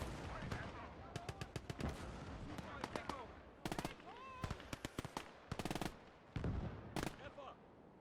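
Sustained machine gun fire in a WW2 real-time strategy battle, bursts of rapid sharp cracks repeating in tight clusters with heavier booms between, while someone talks over the shooting.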